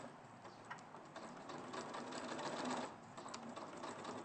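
A sewing machine stitches to box the bottom of a quilted bag with wadding, a steady fast mechanical whirr with rapid needle ticking, close and continuous, no voices.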